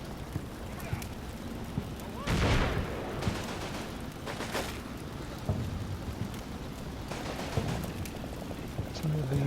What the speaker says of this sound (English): We're getting some flank fire there.